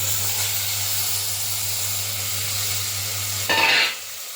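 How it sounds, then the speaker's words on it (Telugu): Marinated mutton dropped into a hot pan with fried chili powder for a mutton tomato curry, giving a loud steady sizzle that bursts brighter for a moment near the end over a constant low hum. "ఇప్పుడు మటన్ ముందుగా కలిపి పెట్టుకున్న మటన్ని వేసేద్దాం."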